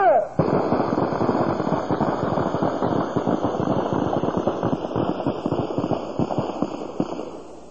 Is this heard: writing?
no